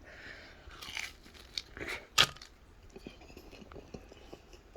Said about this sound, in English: This one should be a lot more crunchy because I just air fried it.